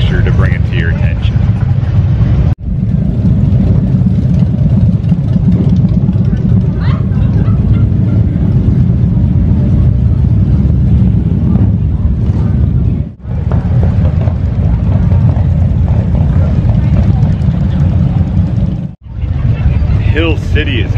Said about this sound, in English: So exciting listening to those bikes rumble through.